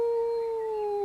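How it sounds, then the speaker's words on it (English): A long, steady howl with a clear sustained tone that sinks slightly in pitch at the end, heard alone and fairly loud; the canine cry is taken for a wolf at dusk. "You could almost imagine it was a wolf."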